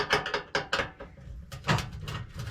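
Ratcheting, clicking tool work on a screw in a Dometic cooktop, a series of close, sharp mechanical bursts with brief pauses between them.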